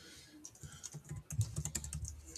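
Steady typing on a computer keyboard, a continuous run of soft, close keystrokes at an irregular pace over low room noise, with no one speaking.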